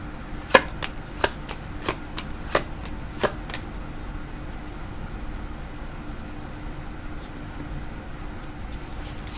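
Tarot cards being shuffled by hand, a few crisp riffling slaps and flicks in a loose rhythm during the first few seconds, close and fairly clear against a quiet room hiss.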